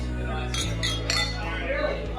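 Glasses clinking together in a toast among a few people, giving several bright, short chinks close by over a low steady background hum.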